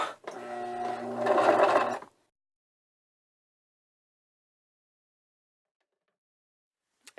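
A sewing machine runs a skirt seam in one steady two-second burst of rapid mechanical whirring, then stops and leaves silence.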